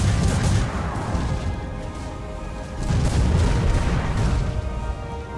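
Naval battle in Port Royale 4, with ships firing cannons: two swelling waves of heavy, rumbling booms and crashes, loud and continuous, with no talk.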